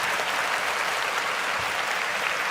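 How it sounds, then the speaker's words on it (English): A crowd at a Houston Texans football game against the 49ers gives a round of applause, a steady, dense roar of clapping that holds evenly for a couple of seconds without voices. "Y'all give Mac Jones a round of applause, man."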